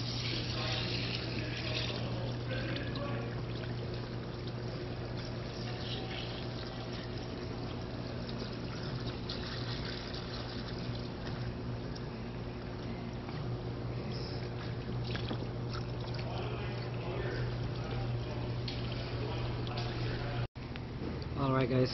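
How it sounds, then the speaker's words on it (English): CVT transmission fluid draining from a 2016-2021 Honda Civic, a steady continuous trickle and pour into a catch container that runs throughout with a low constant hum beneath it. "Draining the fluid."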